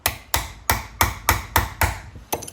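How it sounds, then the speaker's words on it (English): Hammer strikes driving a door handle part into place on a Toyota Celica, seven sharp evenly spaced metallic blows about a third of a second apart, close and loud, with no talk. "and sort of hammer it in"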